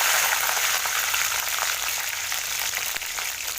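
Mustard seeds, urad dal and crushed skin-on garlic cloves fry in hot oil for potato rice, giving a close, steady, bright sizzle that continues without a break and with no talk.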